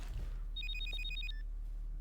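A telephone in a video game rings with a rapid electronic trill of repeated high pulses lasting under a second, moderately loud over a low background rumble, then stops.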